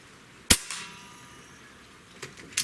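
An AEA Challenger Pro regulated PCP air rifle fires a single sharp, loud crack at a shotgun shell, then a fainter tap and another snap follow about two seconds later against a quiet background.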